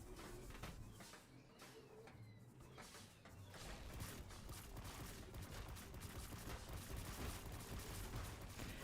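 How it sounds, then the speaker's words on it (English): A rapid barrage of energy weapon shots in the vehicle-building game Trailmakers, a dense, continuous crackling volley that grows heavier, heard fairly faint with no talking. "I'm gonna try and snipe you. Barrage of infinite energy"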